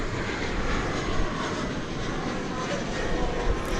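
A jet airliner roars loudly and continuously at DFW Airport, with American or American Eagle aircraft passing nearby. The broadband engine rumble holds steady throughout with no voices.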